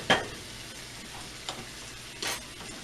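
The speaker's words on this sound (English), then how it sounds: "these have been sauteing and steaming for a while" Green beans sautéing and steaming in a pan, with a soft continuous sizzle broken by a few stirring scrapes, close by and with no one speaking.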